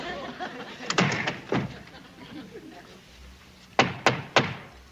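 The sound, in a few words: hitting the door hatch of the duty hut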